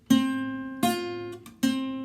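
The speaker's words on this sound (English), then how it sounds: "So if I take my first finger and I'm leaning on strings 1 and 2 first fret," Guitar strings one and two fretted at the first fret, struck three times in a row, each note pair ringing out and sustaining until the next, close and clear with no talking.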